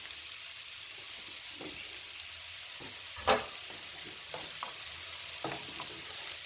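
Garlic and mushrooms frying in a pan with a steady soft sizzle, stirred a few times with scattered light scrapes and one brief louder clatter, no talking.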